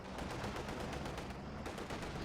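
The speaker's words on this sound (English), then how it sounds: "Can he finish him with the machine guns?" Tank machine guns fire in rapid sustained bursts during a video game battle, a fast steady clatter of shots that stays fairly faint and far off.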